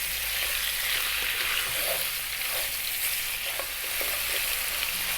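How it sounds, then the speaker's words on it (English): Pieces of lamb fry in a pan over above-medium heat, giving a steady, close sizzle with occasional crackles and stirring sounds throughout. "on an above medium heat, we're going to throw this around in the pan for about 5 or 6 minutes"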